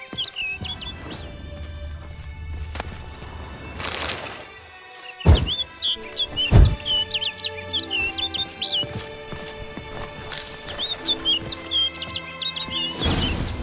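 Birds chirp and trill in bursts within the game The Witcher 3: Wild Hunt, their calls repeating over a soft ambient bed with a few sharp thuds and crashes in between.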